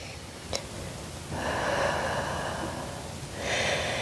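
Slow, soft breathing during a yoga session, a short sharp inhale followed by a longer airy exhale, close and quiet with no talking.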